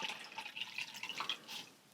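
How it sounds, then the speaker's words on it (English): Water dripping and trickling from squeezed wet wool yarn, a scatter of small splashy drips over about two seconds, close and light, fading at the end with no talking. "Next, I'm going to sort of squeeze the water out of it."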